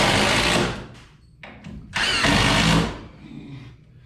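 A power drill whirs in short bursts, driving screws into a treated wood floor indoors, loud and close with a couple of quick trigger pulls between longer runs.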